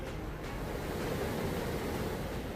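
The swollen Manawar river in Rajouri raging after a night of heavy rain, a constant broad roar of rushing floodwater, loud and unbroken with no voices.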